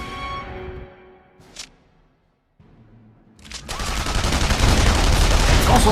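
Gunfire in the video game The Saboteur: a fading tonal tail, brief sharp shots, a near-silent gap, then a loud dense burst of rapid automatic fire that runs to the end.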